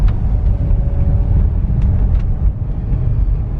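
A Volkswagen Touareg TDI with an automatic transmission and 208K miles shifting gears while driving: steady, loud low engine and road rumble from inside the cabin, with a brief dip partway through as a gear change comes in.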